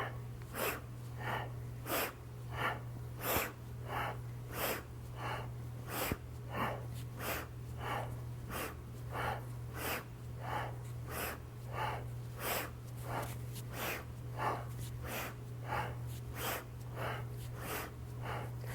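Rhythmic forceful breathing during a yoga breathing exercise, made of quick, sharp nasal exhales and inhales in a steady fast pulse that repeats for the whole stretch over a constant low hum, with no talk.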